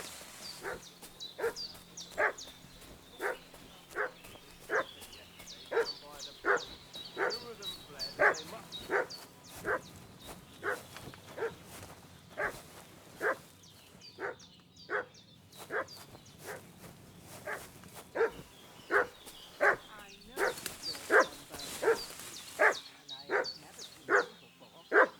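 A dog in the medieval game Kingdom Come: Deliverance 2 barks repeatedly at a steady, rhythmic pace throughout, each bark moderately distant, over a background of ambient game sound and occasional talk.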